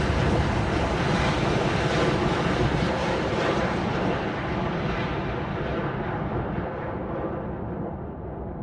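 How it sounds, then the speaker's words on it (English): An Embraer E195F jet in a flight simulator, seen from a flyby camera as it climbs out, makes a loud, broad engine roar that slowly thins and fades as it pulls away, with no talk. "That was our jet climbing out."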